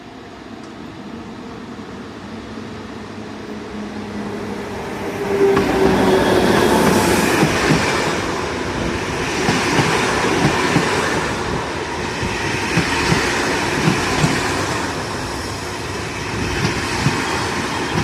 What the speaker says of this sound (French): Et là, le train arrive définitivement en gare.